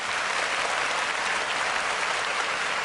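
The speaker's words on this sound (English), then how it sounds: "I got to give my round of applause for this track." Applause fills the space during a DJ interview: a dense, steady wash of clapping from many hands, loud and unbroken, with no speech over it.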